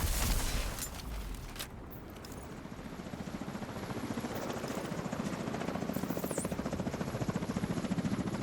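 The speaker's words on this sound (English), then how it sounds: "we got choppers here" Video game helicopters drone with steady, rapid rotor chopping. The sound is loud and continuous, with a few sharp transients early on.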